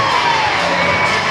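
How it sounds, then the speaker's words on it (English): A sold-out baseball crowd cheers loudly after a strikeout at a Savannah Bananas versus Party Animals game in Savannah, Georgia: a dense, sustained roar of voices and whoops filling the space. "the crowd erupting"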